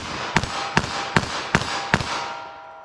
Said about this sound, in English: I'm firing those off pretty quickly, and definitely a lot more muzzle jump.